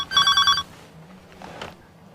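An incoming call rings on a telephone: one short, bright electronic ring burst, fairly loud and close, followed by quiet faint rustling.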